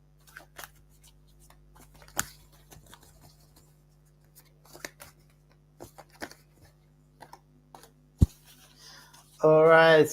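Cards riffled and tapped in scattered soft bursts during a tarot-style reading, fairly close, with quiet gaps between, ending in a louder stretch of voice.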